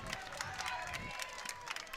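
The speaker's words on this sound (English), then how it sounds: "The crowd is starting to give some energy. The crowd's into it." A crowd cheers and applauds at a girls' lacrosse playoff final, Cherokee vs. Montgomery, a busy, moderately distant wash of voices with scattered claps throughout.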